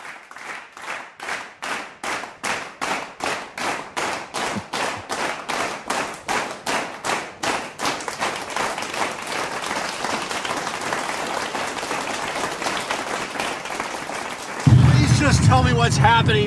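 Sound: audience applause, a warm round of applause for guests

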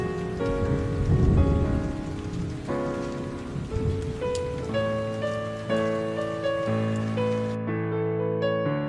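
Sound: rain falling in Roblox video game

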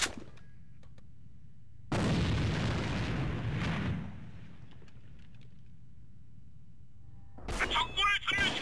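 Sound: grenade explosion in the video game AVA

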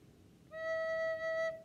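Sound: recorder playing the note E

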